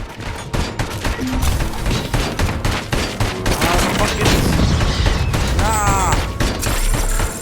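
Gunfire from an ED-209 enforcement robot attack in the video game RoboCop: Rogue City. Loud, rapid bursts and booming shots pound continuously through the action, mixed with crashes, electronic effects and voices.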